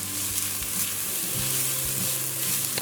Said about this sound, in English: now I'm going to go in with some chopped celery and some scallions, or scythe as we say in Trinidad, and give that a mix